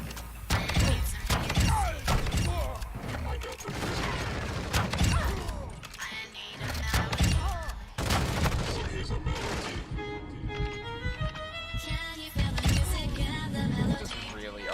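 Dragon's Breath shotgun shells fire in a video game, a series of sharp bursts and rattling mechanical clacks spread across the moment, with a voice talking between shots.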